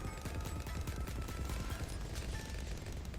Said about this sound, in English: It's firing fireballs across.